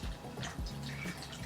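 Water poured into a slime mixture, a third of a cup, giving a short close trickle and splash with faint dripping in a quiet room.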